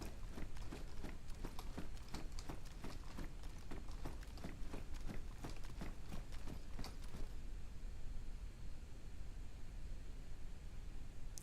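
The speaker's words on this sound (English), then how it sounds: "I thought I heard footsteps again." Footsteps in the video game DayZ, a fast run of rhythmic thudding steps for about seven seconds that then stop, leaving a quiet hiss of background ambience.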